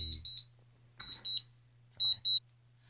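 A timer alarm beeps in quick pairs of high electronic tones, three short bursts separated by silence, clear and close.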